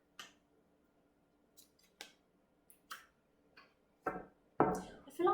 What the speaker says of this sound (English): let me put some more cards down to get more in this situation for you.